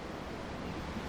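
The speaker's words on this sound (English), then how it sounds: "The waves. They help me think." Ocean waves rolling and washing in a Tales of Arise game scene, a steady, dense roar of surf with breezy wind noise, continuous and fairly near, with no voices.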